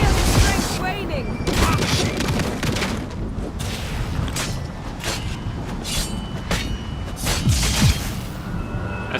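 Booming blasts and rapid gunfire-like bursts from a boss fight in The Witcher 3: Wild Hunt, repeated loud impacts under a dense, continuous game soundtrack with a voice talking over it.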